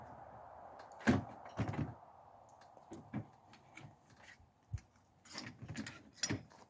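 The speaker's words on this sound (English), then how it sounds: "let me pull out a bolt here just as an example" A metal bolt being pulled from an AR-15 rifle in 6.5 Grendel, giving sharp scattered clicks and clacks of steel parts, close up, with quiet pauses between the knocks.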